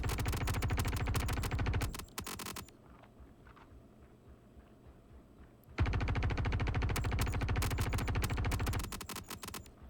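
Sustained rapid automatic fire from a P4-AR rifle in Star Citizen, played in VR: loud dense bursts for about two seconds, a quieter gap with faint scraping, then a second long, loud volley of fire.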